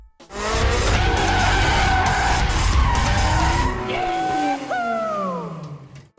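A car drifts in a Fast and Furious film scene, its tires skidding and squealing loudly and continuously for several seconds over a roaring engine, with pitch-bending screeches trailing off at the end.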